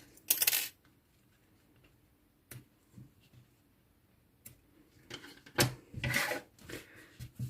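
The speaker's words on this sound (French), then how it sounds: "Voilà, et je vais les couper." Scissors snipping through the pieces of a paper Christmas star ornament, a few sharp cutting bursts spread over the clip, close and alone with no talk.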